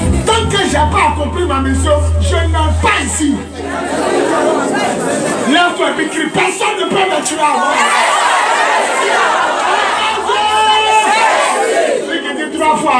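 A church congregation on its feet, shouting together in a loud, dense crowd roar with overlapping voices and a steady low hum beneath, sustained throughout.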